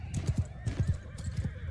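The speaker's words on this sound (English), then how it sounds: "That rearing sound is the horse archers just running into the trees." Horses in a Bannerlord battle rearing and neighing as they run into trees, with repeated clip-clop hoofbeats and whinnies layered close together over a steady background din, no talking.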